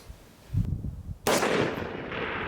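An FN SCAR Mk20S sniper support rifle fires at targets outdoors, one muffled thump followed by a sharp, loud crack that rings out with a long decaying echo.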